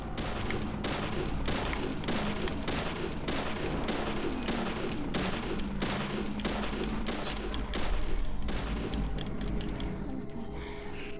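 Repeated gunshots in the video game Deadly Premonition, fired in an uneven series of sharp, punchy cracks that are evenly loud, with a few closely spaced bursts near the end.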